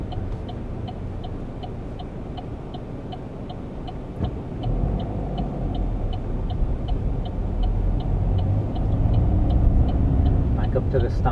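A car engine rumbles steadily during a driving route on the Naas route, near and continuous, growing slightly louder, with a rhythmic indicator ticking throughout.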